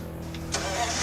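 A flathead engine in a custom car cranks and catches, settling into a steady, even idle with a low rhythmic pulse, close and fairly loud.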